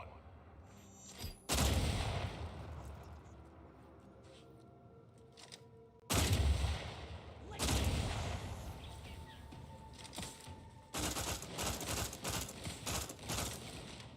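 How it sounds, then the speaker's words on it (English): Heavy assault rifle gunfire in the game Outer Worlds 2, loud close bursts separated by quieter gaps, with a longer run of rapid shots near the end. "That assault rifle actually seems useful."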